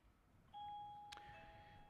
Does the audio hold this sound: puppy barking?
no